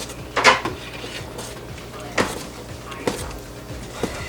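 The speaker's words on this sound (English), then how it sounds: "So I'm just going to stand here and stir it" Spoon scraping and knocking against a pot of homemade tomato sauce being stirred on the stove as it heats toward a boil, a few sharp clinks spaced over steady background hiss.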